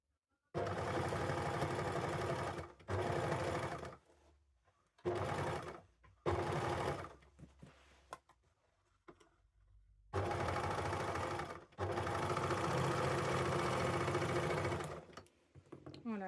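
An overlocker sewing machine serges seams in several long bursts of fast, steady whirring stitching, separated by short pauses and quieter gaps, close and loud with no talk.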